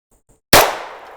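A single close, sharp report from a suppressed GSG Firefly .22 LR pistol, a sudden crack that rings off and fades after a moment of near silence.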